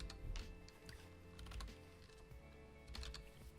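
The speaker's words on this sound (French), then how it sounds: "Je vais taper mon marqueur" Keystrokes on a computer keyboard while a marker is typed into MindManager software, a quick irregular patter of clicks in short bursts, fairly close with no talking.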